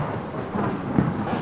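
A stormy night comes through as a thunderstorm effect: a low rumble of thunder swells under a wash of rain noise, building to a deeper roll near the end.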